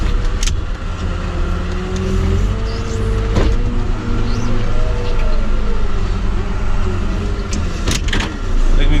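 Farm truck crawling over snow in four-wheel lock while hauling bales, a loud, steady engine drone close by with tire crunch and a few sharp knocks and clunks, no talking.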